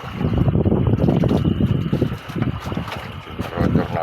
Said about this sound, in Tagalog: generator